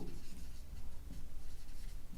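Pen scratching steadily across paper while writing a cash book entry by hand, a continuous soft rubbing with small pulses, close and quiet, with no voice over it.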